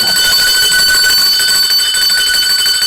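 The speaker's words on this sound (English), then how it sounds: "Ring the bell." A bell or alarm rings continuously for several seconds, a steady, loud, bright electric ringing with no pauses, heard alone without voices.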